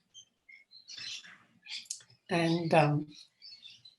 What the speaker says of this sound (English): the birds are going mad here